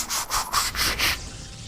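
A voice imitates a Transformer transforming, making five quick rhythmic whooshing, rubbing bursts in a row before trailing off into quiet.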